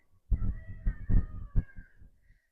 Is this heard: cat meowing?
yes